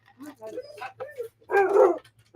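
Lulu, a senile pet dog, lets out a few short yips and whimpering barks, then one louder sustained bark, close by and in a quiet room.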